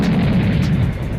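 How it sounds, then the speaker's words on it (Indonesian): Aphrodite fires her bazooka in a fantasy battle, a loud, dense rumbling blast that roars steadily for about a second with a throbbing low end, and no voices. "Aphrodite pun menembakkan basokanya"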